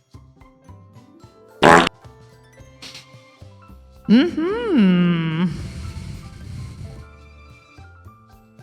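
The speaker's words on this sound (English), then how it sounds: "That was a fart noise." A loud, wobbling fart-like blast rises and falls in pitch for about a second, preceded by a short sharp burst, with quiet murmuring around it.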